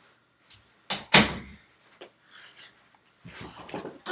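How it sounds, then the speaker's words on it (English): A door is shut indoors, with a few sharp knocks and thuds building to one loud slam, then fainter handling noises and rustling afterward. "let me shut this door real quick"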